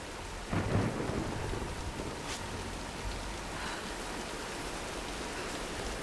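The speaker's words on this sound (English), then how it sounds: "Nah, let's wait out the storm." A thunderstorm with steady rain in the Tomb Raider video game: a rumble of thunder swells early, then a soft, continuous hiss of rainfall carries on to the end.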